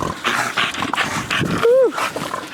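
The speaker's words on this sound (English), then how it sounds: "Them dogs crazy." Two dogs, a mother and her daughter, shuffle and rustle about inside a wooden dog house, with one short whine rising near the end. A person speaks briefly as well.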